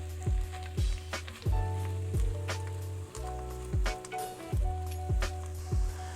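Ground turkey cooking down for chili in a pan, with a soft sizzle under repeated thumping, scraping stirs that come in a steady rhythm of a few seconds apart.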